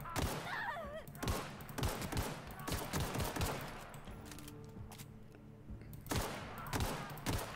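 Gunfire in The Outer Worlds sci-fi shooter: repeated sharp shots and rapid bursts crackling through a firefight, loud and close, with a pause mid-way before another volley of shots.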